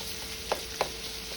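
Longanisa sausage fries in a pan for chili beans, a soft steady sizzle broken by two quick clinks of a utensil against the pan.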